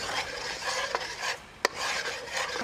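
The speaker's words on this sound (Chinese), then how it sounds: "一边放一边搅拌，一边放一边搅拌。" Homemade oyster sauce, cooked down from fresh shucked oysters, stirred in a pot while starch is added: a continuous close scraping and rubbing rasp with a couple of brief sharp clicks, no voices.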